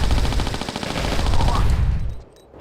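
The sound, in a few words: Lara firing her weapons in the video game Tomb Raider 4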